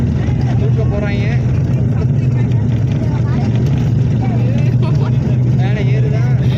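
An airplane speeds down the runway before takeoff with a loud, continuous engine roar and rumble. People talk over it throughout.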